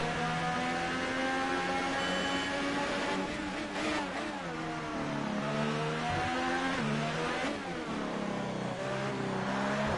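A McLaren Formula One car in F1 2018 at the Mexican race, driven hard, with its engine screaming through repeated upshifts and downshifts, pitch climbing and dropping in loud, close waves, no voices.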